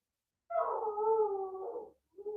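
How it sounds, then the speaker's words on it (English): A pet dog at home gives a long, drawn-out howl that wavers in pitch, then breaks off and starts again briefly, heard alone and fairly close. "My dog just howled again."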